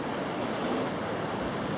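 Ocean surf at St Andrews pier makes a steady, broad wash of breaking waves. It is even and continuous, with some wind buffeting the microphone and no voices.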